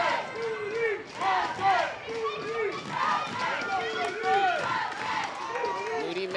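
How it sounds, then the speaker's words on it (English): Softball fans in the stands make a loud, continuous roar of cheering voices and stomping, with the dugout jumping along, a dense crowd din that never lets up. "Making some noise, stomping their feet"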